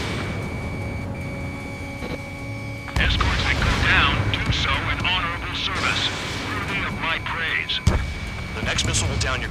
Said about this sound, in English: Damn, they're firing surface-to-air missiles at me.